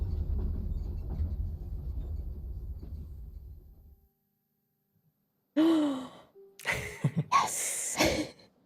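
Breathing sounds from the video game Kingdom Ka: a low rumbling bed gives way to silence, then several short breathy gasps and sighs come close and fairly loud near the end.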